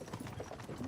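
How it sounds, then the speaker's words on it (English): Horse hooves clip-clop in a steady, fairly close rhythm as a horse-drawn carriage rolls along in a video game, with a dense layer of background texture beneath the beats. "don't you think maybe we could make the horses go a little faster?"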